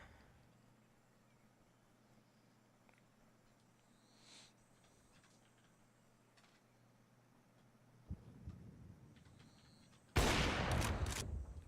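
Sniper rifle fire in a competitive esports video game match: a low steady hum holds for most of the stretch, then a couple of sharp, loud shot bursts ring out near the end.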